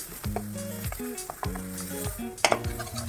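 Ground spices fry in hot oil for a chitol fish curry, with crackling sizzle and repeated scraping stirs of a spoon against the pan, close and clear.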